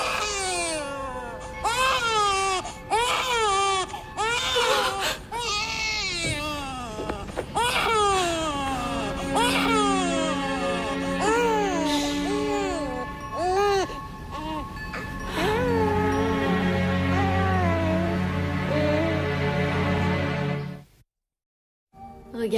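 A baby cries loudly and insistently in a scene from a fantasy drama series, with wailing, sobbing bursts and whimpers rising and falling close by, a voice occasionally heard, before a brief silence at the end.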